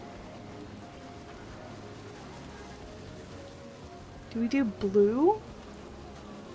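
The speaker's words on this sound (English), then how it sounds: "Why is everything so rainy?" Rain falls in the video game Planet Coaster 2 as a steady, soft hiss running through the whole stretch, with a short spoken phrase rising over it near the end.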